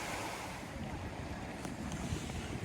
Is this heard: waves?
yes